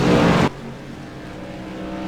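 Race cars roar loudly in a Bristol sim racing game, with a close, dense engine blast cutting off abruptly into a lower, steady drone of distant cars circling the track.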